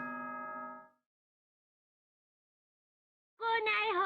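A sustained, evenly pitched electronic chime sounds at the start of the Danganronpa: Trigger Happy Havoc announcement, then silence, then a wavering tonal sound at the end.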